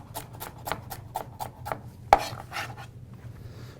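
Knife slicing through roasted-vegetable roots on a cutting board: a steady series of about nine crisp, evenly spaced chops close by, one sharper louder knock midway, then scraping and softer cuts trailing off.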